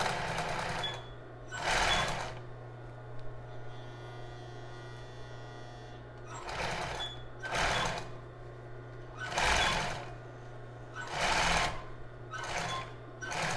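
Sewing machine stitching fabric for a child's bra, running in repeated short bursts of rapid whirring stitches separated by pauses, over a steady low mains hum.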